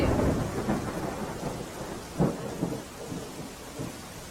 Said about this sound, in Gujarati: મુશળધાર વરસાદ વરસી રહ્યો છે